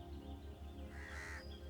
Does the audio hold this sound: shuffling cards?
no